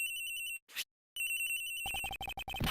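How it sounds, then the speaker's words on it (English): A cell phone rings from inside a locker in the Ace Attorney Investigations video game: bright electronic ringtone bursts in repeated pulses, a short gap, then the ring resumes with a fuller tone, clear and alone. "The ringing's coming from in here, sir."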